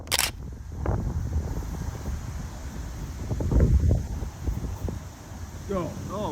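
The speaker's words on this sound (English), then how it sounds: "There's so much wind I didn't realize." Strong gusty wind buffets the microphone on a disc golf course, low rumbling blasts rising and falling continuously, with rustling and a brief voice near the end.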